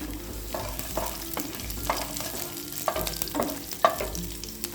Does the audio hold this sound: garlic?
yes